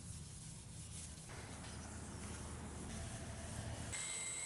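Micro mesh pads rub across ultra hard wood during fine sanding toward a 12,000 grit polish, producing a steady, soft, continuous scratchy rasp with no voices.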